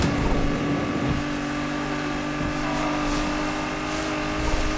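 Nissan GTR in the Need for Speed Unbound racing game accelerating hard on nitrous, a loud, steady engine roar with sustained tonal whine that holds throughout, close and continuous with no talk.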